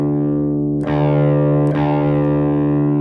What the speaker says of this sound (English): and sound like this for your low E string